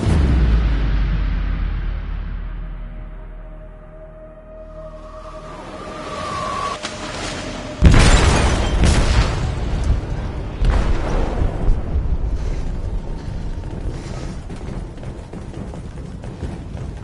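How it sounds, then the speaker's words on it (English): A large explosion goes off in a ship's hold in the video game Detroit, a sudden loud boom after a quieter stretch, followed by a long roar of rumbling debris and crashing. "They detonated an explosive in the hold."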